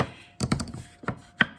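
Two pieces of scrap wood struck against each other several times: a quick cluster of three knocks, then two more separated by pauses. Each is a crisp, woody clack heard up close in a quiet room.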